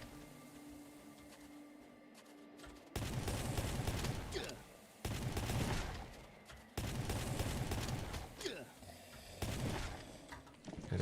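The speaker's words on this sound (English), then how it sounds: "Wasting the Apocalypse Breath shotgun to save time" Shotgun blasts from the Apocalypse Breath in the Last Day on Earth video game, several loud bursts fired in quick succession with brief pauses between volleys.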